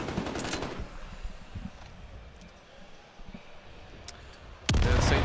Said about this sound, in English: A lot of damage being done with that shotgun.